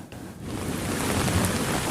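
Heavy rain pours down in Jakarta, a dense, continuous roar of falling water that stays loud and unbroken from start to finish.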